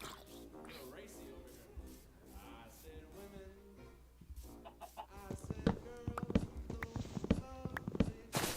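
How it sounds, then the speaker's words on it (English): A Minecraft chicken gives short clucks amid game sounds, mixed with footsteps and other game effects that grow busier and louder toward the end, with a voice talking over it. "Of course, it's a chicken."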